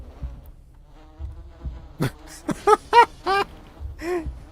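Angry wasps in the Voices Of The Void video game buzz in short, sharp, close passes, several loud whining bursts flying by one after another against quiet background hum.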